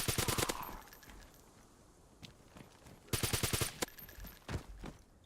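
Rapid bursts of AS50 sniper rifle fire in a video game crack out in quick volleys, a fast string at the start and another longer run later, with a few scattered single shots between.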